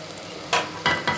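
Masala sizzles in oil in a pot for mutton curry and is stirred, making three short scraping swishes over a soft background sizzle, close and fairly quiet.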